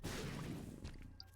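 Bomb exploding in The Binding of Isaac: Repentance+, a single short, dense blast with a crashing burst at the onset that quickly thins into scattered debris sounds.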